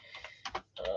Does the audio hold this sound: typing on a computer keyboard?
yes